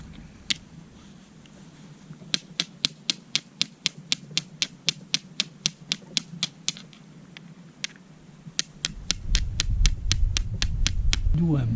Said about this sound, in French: je vais commencer à percuter ma pyrite sur mes amadouviers